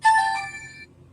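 A phone ringtone chimes once in a short bright electronic melody of a few tones that rings out and then cuts off, leaving a faint low background hum.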